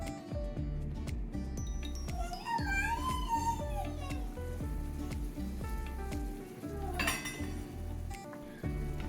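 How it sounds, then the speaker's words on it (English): Finely chopped onion and garlic saute in a spoonful of oil. A soft sizzle sits beneath repeated metallic clinks and scrapes of a utensil against the pan, with faint background voices and tones. "To a spoon of oil, I'm adding finely chopped onion and garlic and sauteing it until golden brown."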